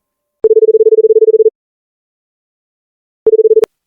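Phone line tones before a call: a steady pulsed beeping burst for about a second, a pause of silence, then a shorter second burst ending in a sharp click, with no voices.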